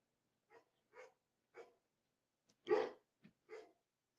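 A dog gives about seven short, separate barks, evenly spaced at first and then bunching together. The barks sound close against a quiet background, with one louder bark near the middle.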